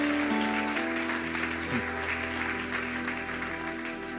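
A church congregation applauds, a steady wash of clapping that holds at an even level from start to end, with sustained tones underneath.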